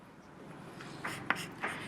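Writing on a board during a physics lesson on rotational motion, a few short scratchy strokes in quick succession, close and fairly faint, with no talk over them.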